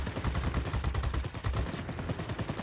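Light machine guns on a Japanese Ki-5 fighter plane in World of Warplanes fire in rapid, continuous bursts of sharp, punchy reports that keep up a steady rattle throughout.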